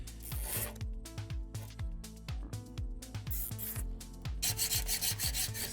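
A fiberglass rod is rubbed or filed with steady back-and-forth rasping strokes, a harsh scraping texture that repeats about twice a second, close up and loud, with a dull resonant ringing from the rod under each stroke.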